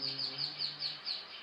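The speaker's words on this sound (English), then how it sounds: "Some birds are here." Birds chirp nearby in quick repeated high trills that rise and fall in several bursts, while a faint low hum fades out partway through.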